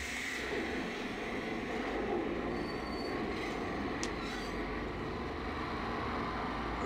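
A train in a video game rumbles along steadily, wheels rolling on track with a continuous low roar and a faint high squeal.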